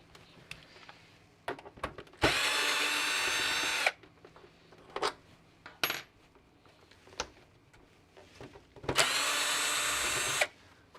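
A power drill backs screws out of an original Xbox console, whirring loudly in two sustained bursts, with metallic clinks and rattles of small parts and handling in between.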